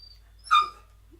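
A puppy gives a single short, high yip-like bark, close and clear against near silence.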